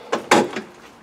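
Door of a Land Rover Defender being opened, a pair of sharp close metallic clunks followed by a softer rattle, all within about a second.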